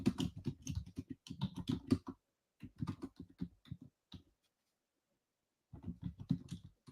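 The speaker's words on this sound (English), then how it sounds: "I'm going to type in our chat." Rapid clattering keystrokes on a computer keyboard come in bursts of fast typing separated by short pauses, close and crisp, with a longer silent gap before a final flurry.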